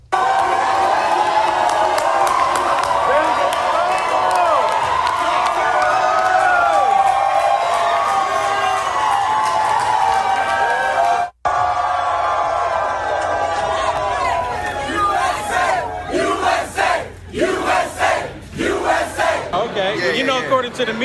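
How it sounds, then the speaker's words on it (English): A room full of excited young Black leaders at the White House with President Trump cheering and shouting in a loud, sustained roar, with scattered whoops and chanting voices rising and falling in the second half. "Can you turn the sound up of these excited young black leaders at the White House with President Trump?"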